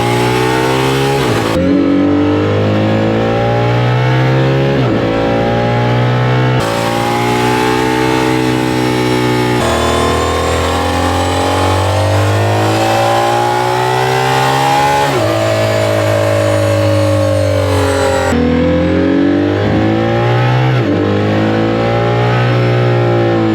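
A Lamborghini Murcielago SV's V12 engine screams loudly through repeated hard accelerations, each rising pitch broken by a gear change, sustained and close for over twenty seconds with no talking.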